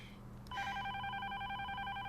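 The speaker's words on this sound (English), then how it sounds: "Let it ring 3 times." A telephone rings in a TV show, a steady electronic warble that starts abruptly after a soft click and continues evenly, heard faintly with no talk over it.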